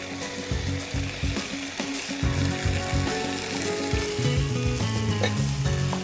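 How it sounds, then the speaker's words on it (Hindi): Blanched vegetables stirred into a sizzling curry gravy in a pot, a loud, close hiss and crackle with clanking and scraping from a spoon against the pan throughout. "इसमें मैं डालती हूँ ये सारे ब्लांच करे हुए वेजिटेबल्स"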